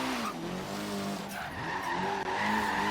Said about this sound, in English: A little bit of drift action here